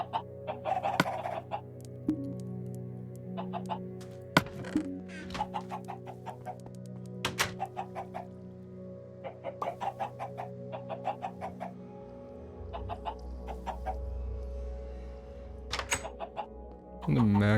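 Chickens clucking in a farming video game, scattered short clucks and thunks recurring over a steady droning background of game music and ambience, fairly close and moderate in level.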